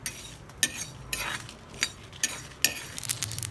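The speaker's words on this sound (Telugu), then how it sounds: "ఇదిగోండి ఇలా చిట్పట్లు ఆడాలండి" Mustard and other seasoning sputter in hot oil for a chammakaya (cluster bean) fry, giving a faint, steady sizzle broken by a handful of sharp, irregular pops and crackles close by.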